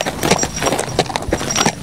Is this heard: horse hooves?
yes